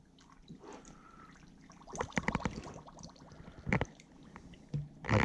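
Hot tap water splashes and trickles into a container while a queen bee introduction spray is being mixed, coming in uneven, close bursts with quiet gaps between them.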